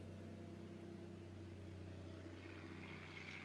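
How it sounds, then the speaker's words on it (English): A steady, droning roar of an airplane passing overhead in El Salvador, broad and continuous with a low rumbling hum underneath, holding at an even loudness throughout with no voices. "Airplane."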